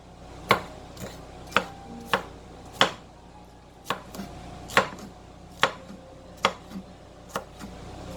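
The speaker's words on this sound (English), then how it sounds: "Give them a choppy chop." Knife chopping vegetables for a diabetic vegetable strata on a cutting board: about a dozen sharp, distinct chops in an uneven rhythm, close and clear, with no talking.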